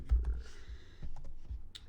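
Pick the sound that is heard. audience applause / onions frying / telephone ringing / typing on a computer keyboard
typing on a computer keyboard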